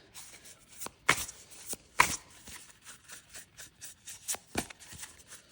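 Tarot cards being shuffled and drawn, with crisp riffling bursts and soft slaps of cards close by. The sounds come in an irregular rhythm with a few louder snaps, and there is no talk.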